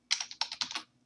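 Fast bursts of keystrokes on a computer keyboard as an awk command is typed in a Linux terminal, close and fairly quiet, in two or three quick clusters lasting under a second.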